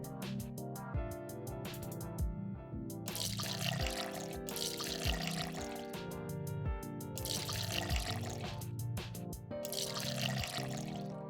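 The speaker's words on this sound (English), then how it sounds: "Drag the vials in order to pour their contents into each other." Liquid gurgling and splashing as vials are poured into one another in the video game malViolence, continuous and fairly loud over a tonal background of game music.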